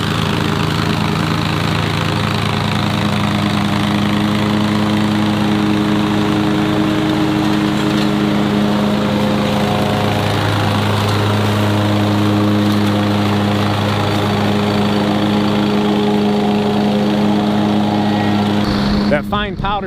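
A lawn mower fitted with mulching blades runs steadily while grinding up leaves, a loud continuous engine drone with a constant pitch that holds throughout and cuts off abruptly at the end.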